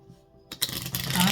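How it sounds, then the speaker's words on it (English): Tarot cards being shuffled by hand, a quiet stretch followed by a burst of dense riffling and scraping that continues steadily, close to the microphone. "I'm going to shuffle one more time for you guys."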